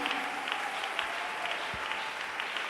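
A church congregation claps in steady sustained applause, a dense wash of hands heard from within the room at moderate volume.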